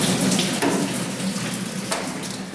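Coolant pours out of a Chevy Colorado engine into a catch pan, a steady close splashing stream with a couple of brief louder gushes and no talking.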